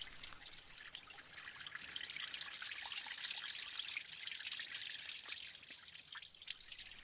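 Water trickling and dripping through limestone rock in a karst cave, a steady bright patter of many drops blending into a continuous wash, swelling slightly in the middle.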